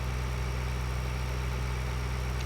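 A tractor engine in Farming Simulator 2013 runs at a steady idle-like drone, a constant low hum with no variation and no voices.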